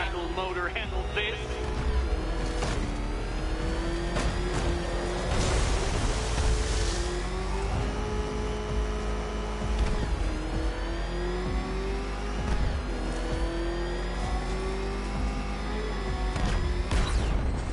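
In Batman Arkham Knight, the Batmobile's engine roars and revs continuously, its pitch climbing and falling under game music and a talking voice.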